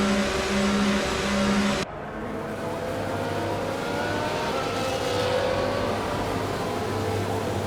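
F1 cars idling and revving on the starting grid at the Baku street circuit in F1 24, a dense, loud engine roar and whine that shifts abruptly early on and then holds steady, with no talk.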